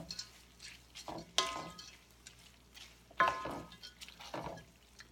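Spaghetti with olive oil, garlic, hazelnuts and chopped black olives is tossed in a pan, giving a few soft clatters and stirring scrapes between quiet pauses.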